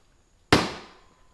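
A single sharp crack from a Gamo Swarm Maxxim 10x Gen2 .177 air rifle firing a lead pellet, close and loud with a short decaying tail, no talk.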